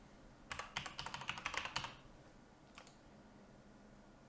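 Quick, close key presses on a computer keyboard rattle out in a dense burst while a password is typed, followed by a pause and a couple of isolated clicks, quiet and clear with no voices.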